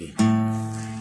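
A guitar's open A string plucked, ringing clearly and sustaining with a gradual fade, close and fairly loud.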